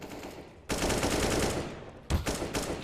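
M4 rifle tap-firing at long range in a competitive shooter match, two loud bursts of shots separated by a short gap, with a quieter stretch at the start.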